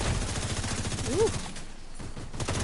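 Rapid bursts of automatic gunfire crackle through the first part of a PS5 shooter game fight, fading into quieter ambience and then picking up again near the end.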